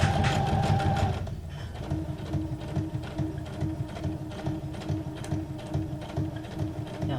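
A sewing machine, the Whippersnapper, runs a straight stitch with a fast, rhythmic mechanical chatter that holds steady and fairly loud throughout, with no talking.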